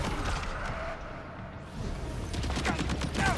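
Rapid gunfire from a magazine being emptied in a video game crackles in dense bursts, loud and close, with a brief dip midway before the shots pick up again.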